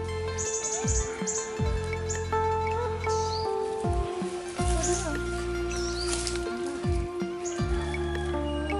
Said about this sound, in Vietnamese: Ô này chim sâu gì vậy Bảo ơi?